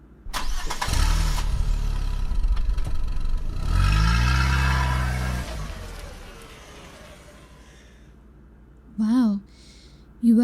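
A loud car engine cranks and fires up in a mechanic's garage bay, roars through a strong rev, then settles to a lower idle, with a voice briefly heard near the end.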